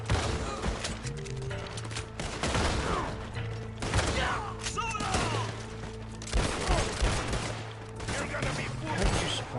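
Gunfire and shotgun blasts in Red Dead Redemption 2 during a town shootout, with repeated loud shots and booming blasts coming in irregular clusters over continuous background noise.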